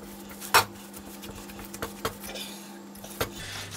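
Meatloaf mixture stirred by hand in a bowl, with a sharp utensil clank against the bowl, a few lighter taps and soft squelchy mixing under a steady low hum.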